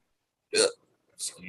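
Two sharp hiccups a little over half a second apart, close and fairly loud against silence, with no talking.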